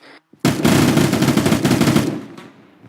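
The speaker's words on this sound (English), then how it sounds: "We're getting fire from the northeast" Sustained automatic gunfire in the military shooter game Arma 3, a loud close burst of rapid rounds lasting about a second and a half before cutting off, with faint quiet before and after.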